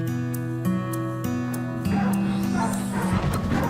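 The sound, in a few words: dog barking and whimpering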